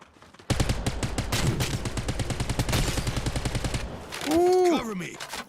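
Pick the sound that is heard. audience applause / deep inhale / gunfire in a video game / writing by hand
gunfire in a video game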